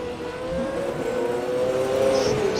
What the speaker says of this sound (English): A few cars out in the track. Yeah, doing some practice starts.